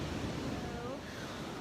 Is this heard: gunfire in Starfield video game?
no